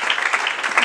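A church congregation applauds and cheers at a worship service, dense continuous clapping from a crowd filling the space without a break.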